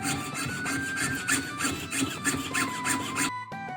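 A jeweler's fret saw cuts through metal in steady, rhythmic back-and-forth strokes, about ten close rasping passes, before the sawing abruptly stops.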